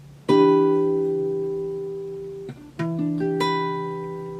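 A guitar chord played on four strings at the 12th fret rings out and decays, then is struck again twice, clean and alone with no talking.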